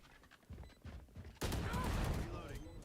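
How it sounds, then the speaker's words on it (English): Shorty shotgun blast in Valorant, a loud sudden shot at about a second and a half with a short ringing tail, after a few softer muffled game thumps, in a competitive collegiate match with faint talk underneath. "Classic shorty kill."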